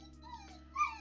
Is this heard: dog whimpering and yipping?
yes